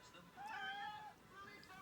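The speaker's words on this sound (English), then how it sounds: "say hi to my cat, my little baby" A pet cat named Mars gives a short, soft meow, faint and close, with a slightly rising tone and quiet room noise around it.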